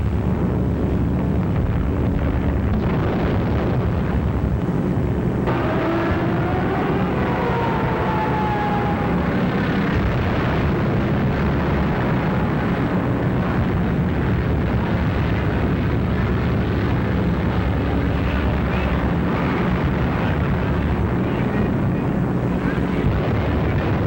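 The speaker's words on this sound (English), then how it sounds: "Unopposed bombing raids sent defenseless civilians fleeing in stark terror." Wartime bombing raid with droning aircraft engines and rumbling blasts, a loud, continuous roar filling the whole stretch with a faint whistling tone partway through.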